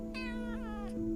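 A pet cat gives one short, close meow that rises and falls, over a low steady hum in the room.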